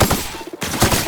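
Electric rifle fire in the sci-fi game The Outer Worlds, a quick run of loud, close shots with a short gap in the middle before more rapid firing.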